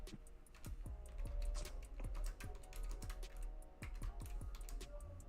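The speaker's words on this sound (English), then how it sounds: "I'm just typing the bit real quick." Rapid, steady typing on a computer keyboard, with crisp close key taps and a low background hum throughout.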